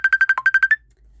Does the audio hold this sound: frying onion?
no